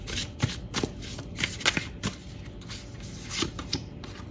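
Tarot cards being shuffled by hand, a steady run of crisp riffles and soft taps close up, with no talking.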